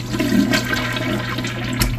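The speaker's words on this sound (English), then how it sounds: "Let's have a look at some flushes now." A Kohler Cimarron Class 6 toilet flushes with a quick press and release, a steady close rush of swirling water that holds for the whole two seconds and has a low hum beneath it.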